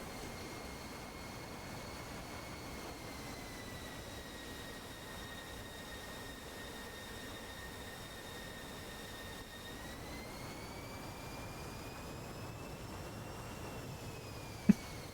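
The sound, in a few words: MiG jet engine in a video game dogfight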